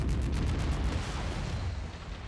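A slow-firing, sniper-like mech weapon in a video game lets off one heavy, rumbling blast that carries for the whole moment and slowly fades, loud and close with no voices.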